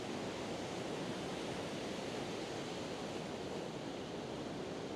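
Steady broadband wash of sea waves at a shoreline in Southwest Norway, a constant rushing surf with no distinct breaks, fairly faint and unaccompanied by voices.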